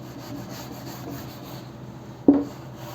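A board eraser rubbing out writing during a Hindi grammar lesson, a faint low scuffing that ends in one short, louder rubbing stroke near the end.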